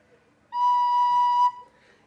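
One soft, steady recorder note B, blown gently and held for about a second, clear and close in a quiet room.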